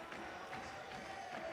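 A stadium crowd chants steadily, football style, at the end of a para climbing final in Laval, a dense continuous roar of massed voices that is fairly distant and even.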